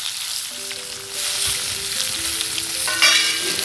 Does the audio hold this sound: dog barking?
no